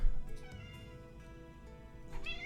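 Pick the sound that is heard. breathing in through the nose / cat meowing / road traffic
cat meowing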